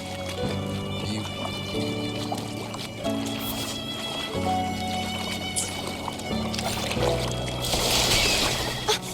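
Water rises and pours in the video game Wuthering Waves, a steady rushing and trickling wash running under game music with sustained tones and shifting chords, loud and continuous for about nine seconds.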